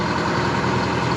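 Dragline excavator engine running, a dense, steady low rumble heard up close without break.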